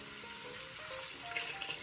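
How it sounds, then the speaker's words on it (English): Beef stock pours steadily into a stew pot for a hearty beef stew, a continuous close splashing rush with no voices. "I'm just going to add some stock. I'm using beef stock"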